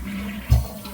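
A newly reinstalled toilet flushes with a brief, close surge of rushing water over a low background hum.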